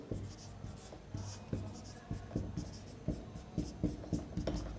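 Pen strokes of someone writing out a maths solution on paper, a series of short scratchy marks in irregular bursts, close and fairly quiet, with no talking.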